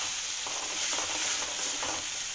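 Onions sizzling in a pan over medium-high heat while being stirred for palak rice, a steady close frying hiss broken by soft scraping sweeps of the spoon.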